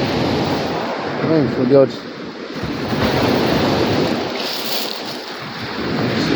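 Sea waves and an incoming tide wash steadily onto the beach at Normans Bay, a broad hiss of surf with heavy wind buffeting the microphone and someone talking briefly over it.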